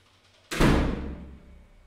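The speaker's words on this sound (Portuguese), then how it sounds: "Fecha a porta aí." A door pushed shut in a classroom-like room lands as one close, heavy thud with a reverberant tail that fades over about a second, with no talking.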